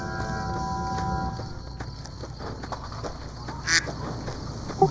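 A duck quacks a few times in the game Fallout: New Vegas, brief honking calls over a steady ambient game background, one sharper quack near the end.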